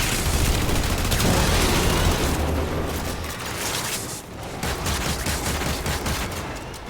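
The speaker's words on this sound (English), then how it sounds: "I have shotgun. Pop, pop, pop, pop, pop, pop." Rapid shotgun fire in the Warframe video game, a loud dense burst of repeated blasts that thins into scattered shots and booming impacts.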